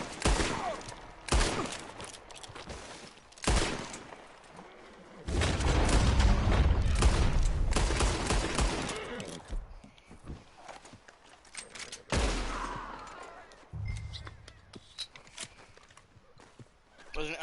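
Gunfire in Red Dead Redemption 2: a few sharp shots and booming bursts scattered among hoofbeats and footsteps, with dense loud stretches of action noise in between and no talk.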